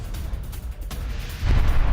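A blast from a Ukrainian strike on a Russian weapons truck near the front line in Donetsk, heard as continuous rumbling that swells into a louder, heavier boom near the end, with no voices.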